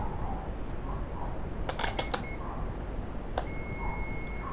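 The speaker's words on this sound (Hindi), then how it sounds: "बीप रेंज पे सेट कर देते हैं मीटर को, बीप पे कर दीजिए।" A multimeter set to its continuity beep range is used while repairing a dead HCL laptop's power button logic: faint, thin beeps are heard near the end, after a few sharp clicks from probes or tools, over a low room hum with no talking.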